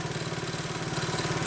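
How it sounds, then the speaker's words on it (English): A 1973 Honda Mini Trail 50cc motorcycle engine idles steadily close by, a loud, even, rapid putter with a faint roughness and no voices over it. "literally, you could hear the engine improving"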